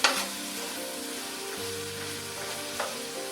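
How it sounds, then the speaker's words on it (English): Pancetta sizzles and fries in olive oil and rendered grease in a pot while being stirred, a steady close crackle with a couple of scraping strokes and no talking. "So I need to stir this around."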